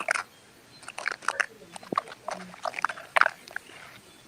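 A dog bumping and knocking against a microphone, heard as irregular close thumps, rubs and scrapes in quick uneven bursts, fairly faint over a quiet background.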